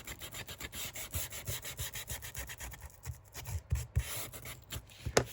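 A small wooden craft piece is hand-sanded with quick, uneven back-and-forth rubbing strokes, close and fairly quiet, with no speech.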